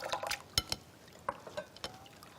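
Mung bean jelly is rinsed in cold water, producing quiet sloshing and splashing with several sharp liquid clinks and drips spaced unevenly, alone and fairly faint.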